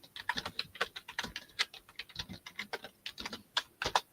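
Quick, irregular bursts of computer keyboard typing sound close by during a live online auction stream, with crisp clicks clustered in short runs and brief pauses between them and no voices.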